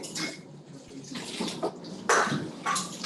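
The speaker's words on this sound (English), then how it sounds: "I just actually add water to it." Water is poured from a tap into a jar of sauerkraut in a kitchen, splashing and gurgling in bursts of varying strength, close by, with a few brief pauses between pours.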